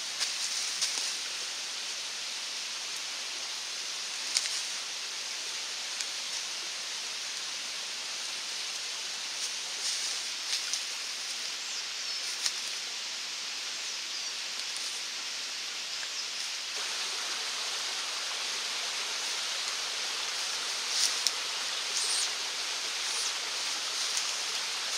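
A stream flows beside a bushcraft campsite in the Alpine countryside, a steady, even rush of water filling the scene, fairly faint and unbroken, with occasional small ticks and rustles and no voices.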